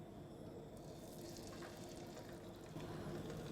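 Seasoned fish frying in a pan of olive oil and local butter, a quiet continuous sizzle with a slight swell near the end, no talk.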